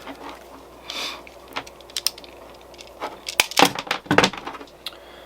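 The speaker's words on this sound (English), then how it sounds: "So let me just cut a quick piece of wire here." Electrical wire is cut with a hand tool in a sharp series of close clicks and snips, scattered at first and then clustering into several quick crisp cuts toward the end.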